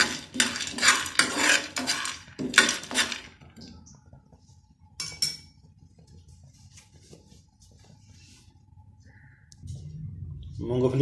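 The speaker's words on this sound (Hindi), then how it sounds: "सबसे पहले हम करेंगे ड्राई रोस्ट मूंगफली को।" Peanuts dry roasting in a pan, a rattling, clinking scrape of nuts being stirred against metal in bursts, then quieter stretches with faint background sounds, close by.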